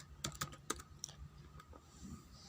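Keys on a computer keyboard are tapped during Packet Tracer network configuration: a few quick, sharp keystrokes close together, then scattered lighter taps, quiet and clear with no talk over them.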